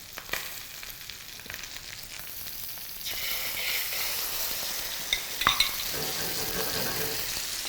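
Pomfret fish frying in a pan while being stirred, a loud continuous sizzle with scraping strokes and a sharp clack near the end, close by and with no talking.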